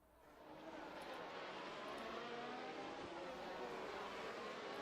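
Race cars from a racing video game, lapping the Japanese Grand Prix circuit in close battle, their engines a steady, continuous high roar layered with several whining motors, loud and constant throughout.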